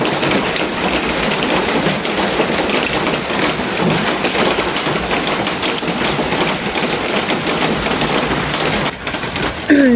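Steady rain falls outdoors during a typhoon, a dense, continuous hiss that stays loud and even throughout, with a brief dip and a few small knocks near the end.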